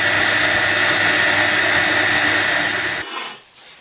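An electric mixer beats butter and sugar for shortbread with a loud, steady high-pitched whirring that runs unbroken, then winds down and cuts off near the end.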